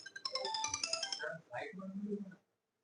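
A mobile phone ringtone chimes in bright, quick melodic notes during a classroom lesson and then cuts off. A nearby voice talks right after.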